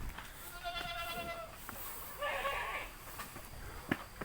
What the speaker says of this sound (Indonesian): ini adalah kandang kambing bur